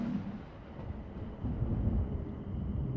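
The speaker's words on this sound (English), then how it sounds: "There's a storm coming now, too." A thunderstorm in the horror video game Invocation: Ghost Photography, with a continuous low rolling rumble of distant thunder and windy noise that swells midway and stays steady.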